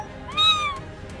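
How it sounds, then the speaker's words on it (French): A pet cat named Hermione meows once, a single rising-and-falling cry of under half a second, clear and fairly close over low background noise. "Pourquoi tu miaules, Hermione?"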